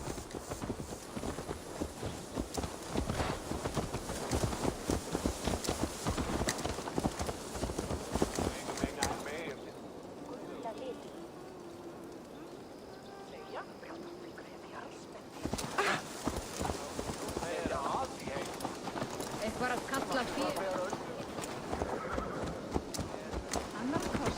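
Hooves clip-clop steadily from a horse in Assassin's Creed Valhalla, with a neigh or two along the way and voices talking over it. The hoofbeats drop out for a few seconds in the middle, then resume.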